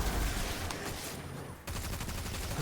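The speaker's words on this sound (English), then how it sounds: "It's such a good grenade launcher." Grenade launcher firing in Destiny 2: a dense, rapid series of booming shots with a sharp cutoff and renewed burst, fairly quiet overall with no talking.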